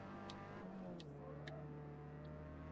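Ford Sierra Cosworth engine in the Forza Motorsport racing game, a steady mid-pitched drone that dips slightly then holds even, with a few faint ticks on top and no voices.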